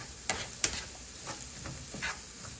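Onions cook in a pan, a soft steady sizzle punctuated by a few sharp clicks and scrapes of stirring, close and quiet, with no talking.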